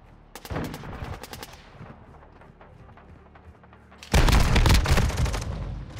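Shotgun fire in Call of Duty: Modern Warfare II, a quick string of sharp blasts early on, a quieter stretch of game ambience, then a loud dense volley of repeated booming shots near the end.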